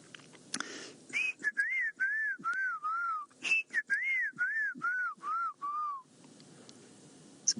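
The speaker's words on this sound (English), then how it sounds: "And then also the black-crowned chagra." Black-crowned tchagra calling on an African safari drive, a clear series of about a dozen rising and falling whistled notes in two mournful runs, distinct over a quiet background.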